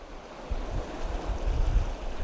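A cool autumn wind blows steadily in Yeosu's Namyeon, a broad, rushing hiss with gentle gusting swells and low rumbles, and no voices.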